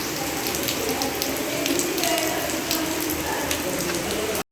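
Heavy rain pours down outside a window, a dense, steady hiss with scattered sharp drips and patters, loud and continuous before cutting off abruptly.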